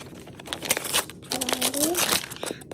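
A taped package being opened, with a quick series of crinkling and tearing noises in bursts, close and loud. A voice speaks briefly over them.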